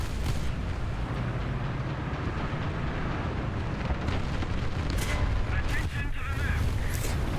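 Dense, rumbling tank gunfire and explosions from War Thunder fill the whole stretch, a continuous loud barrage of booms with a few sharper blasts standing out near the end.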